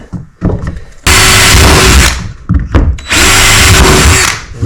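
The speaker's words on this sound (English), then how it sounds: "Holes are drilled." A power drill bores holes into an Old Town Bigwater 132 PDL kayak, two loud, close, sustained whirring runs of about a second each, separated by brief handling clatter.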